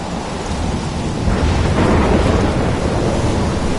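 A thunderstorm in the video game Life is Strange: heavy rain and wind roar in a dense wash, with a deep rolling thunder swell building in the middle, loud and close, no voices.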